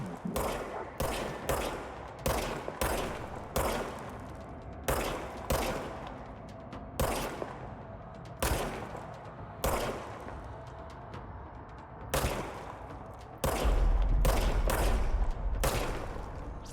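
Gunfire from a regenerating-ammo weapon in the game Control: repeated sharp, loud shots in short volleys and single cracks, spaced by brief pauses, ending in a heavier sustained rumble.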